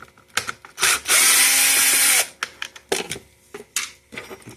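A screw is backed out of a Hoover Power Dash pet vacuum wheel: scattered clicks and scrapes, a steady one-second whir of a powered screwdriver, then more plastic handling clicks, close and fairly quiet.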